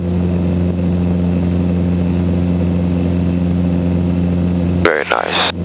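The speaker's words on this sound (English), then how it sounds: "All right, just a normal takeoff here" Training helicopter engine and rotor drone steadily through a normal takeoff, a loud continuous hum with strong low harmonics, briefly interrupted near the end by a burst of radio or intercom noise.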